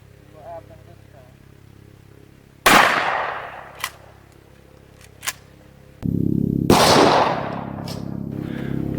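Two loud, sharp blasts from a 12 gauge shotgun firing Estate 00 buckshot, each ringing out with a long decaying echo outdoors, separated by a few quieter clicks and handling sounds.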